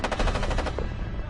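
A Thompson submachine gun fires a rapid, steady burst of shots close up and loud, the rounds running together into a continuous rattling stream.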